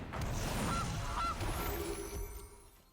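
A Gilded Goose card in the MTG Arena digital card game sounds a goose honk, a couple of loud, close honks followed by fading game ambience.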